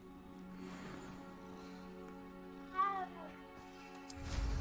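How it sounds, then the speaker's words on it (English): A single short cat meow in a video game sounds once midway, faint over a quiet, humming background, with a soft rustle near the end. "It's a kitty cat."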